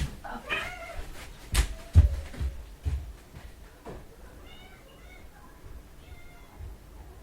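A pet cat named Gina meows in short upward calls at a kitchen feeding time, mixed with thumps and clatter, while someone talks nearby.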